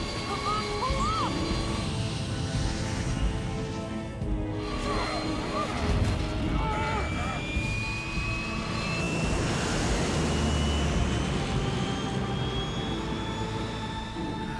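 Loud, continuous roar of a jet aircraft engine in the video game Metal Gear Solid 3, a steady broadband rush with a slowly rising whine and scattered game effects, with voices briefly heard over it.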